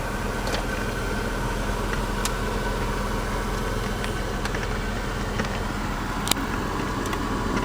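A 1992 Chevrolet S10 pickup truck's engine runs in a steady, continuous drone with constant road and fan-like hiss and a few faint clicks, with no voices.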